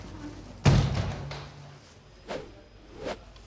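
A door at a spectacle lens factory in Lorraine opens with a solid thump and clatter, followed by a fainter knock and two soft whooshing bumps, all heard nearby.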